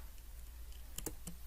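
A few light keystrokes on a computer keyboard click close by and faintly, a short cluster of taps over a quiet steady hum.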